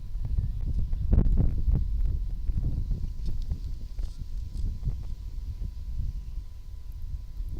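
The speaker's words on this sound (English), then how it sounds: "Wind is picking up here." Wind blows across a ballfield during an 18U baseball game, giving gusty low-pitched rumbles and buffeting against the microphone, strongest early then easing, with scattered faint knocks.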